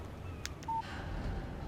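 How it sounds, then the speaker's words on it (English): A short electronic beep chimes once from a phone in the video game Alan Wake, signalling a text message; a single clear tone stands out over quiet background noise. "Text message from Barry."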